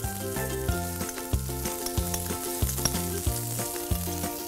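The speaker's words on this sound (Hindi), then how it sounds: "बारीक कटा हुआ लहसुन थोड़ा सा इसे हम सॉटे कर लेंगे" Finely chopped garlic and peas sauté in a hot pan with a steady, soft sizzle. Melodic background music plays over it, and a few light clicks from the pan or spoon stand out.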